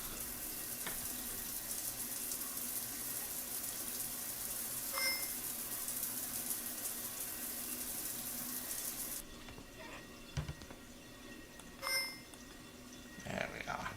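Steady rushing water from a shower in the video game Shadows of Doubt, loud and continuous for about nine seconds before cutting off, followed by a few faint clicks and taps.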